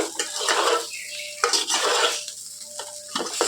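A spoon scrapes and stirs eggplant fry in a pan, with a series of clattering, scraping strokes separated by short pauses, close and fairly loud with a light sizzle underneath.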